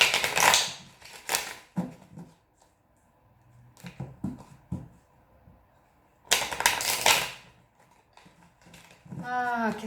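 Tarot cards are shuffled in loud, close riffling bursts separated by quieter pauses, with a brief voice-like sound at the very end.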